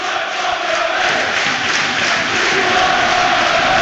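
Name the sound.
football stadium home crowd cheering and getting louder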